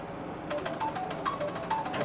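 A mobile phone rings in a classroom, sending out a short run of bright, repeating melodic tones that start half a second in and sit over a hum of room noise.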